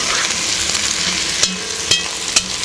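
Chicken pieces sizzling steadily in a frying pan as they are flipped, with a continuous hiss broken by three sharp utensil clicks against the pan.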